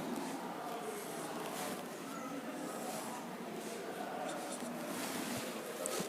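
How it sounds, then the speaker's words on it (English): Pen or marker scratching steadily on paper while a circle is drawn by hand for a geometry tangent problem, a continuous soft rasping texture lasting several seconds at close range with no voices. "Draw a circle."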